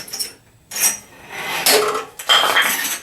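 A metal stand piece from a Harbor Freight Bauer bandsaw is flipped over, giving clattering metallic clanks and scrapes in a few close, loud bursts with short pauses between.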